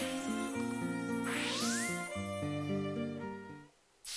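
A bell struck in a Zelda game rings out as a bright chiming jingle of stacked tones, with a rising sweep and sustained melodic notes, ending abruptly into near silence.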